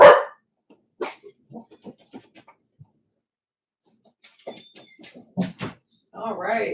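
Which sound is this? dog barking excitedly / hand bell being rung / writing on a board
dog barking excitedly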